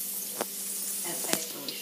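Mushroom and onion frying in a little olive oil, a soft steady sizzle with a couple of brief sharp spatter or stir bursts, close and alone.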